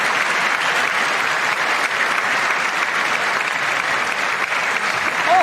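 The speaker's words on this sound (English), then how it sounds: "I wasn't sure if anybody even on this side was going to applaud for that." Sustained, dense applause from a large audience at the State of the Union address fills the whole stretch evenly and loudly, with no break and no clear voices above it.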